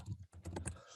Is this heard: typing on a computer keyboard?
yes